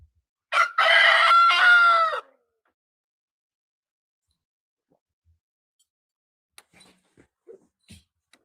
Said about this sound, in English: Put some tape on that chicken, man.